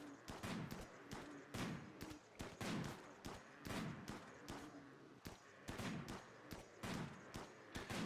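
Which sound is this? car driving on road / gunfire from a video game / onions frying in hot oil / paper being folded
gunfire from a video game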